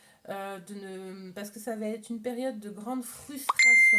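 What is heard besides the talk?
phone notification beep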